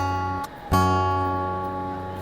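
An acoustic guitar dyad on the B and low E strings rings out sustained and close, with a brief muted pluck before the notes are struck again and left to decay alone.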